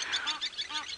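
Geese honking in a rapid series of loud, overlapping calls as a goose family chases off a martial eagle on an African safari, with no talking.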